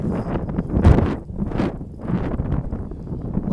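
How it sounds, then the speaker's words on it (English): Gusty outdoor wind buffets the microphone near a building by a Lake Erie bay, rising and falling in loud rumbling surges with no speech. "please bear with the wind for a minute"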